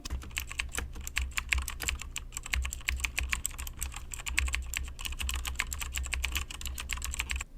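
Steady, rapid clicking of a computer keyboard as data is typed into a Microsoft Access form, with irregular keystroke bursts continuing throughout over a low background hum.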